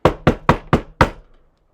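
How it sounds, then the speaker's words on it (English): Five quick knuckle raps on a wooden surface in an even rhythm, close and crisp, the last one trailing into a short fade, with no voices. "knock on wood"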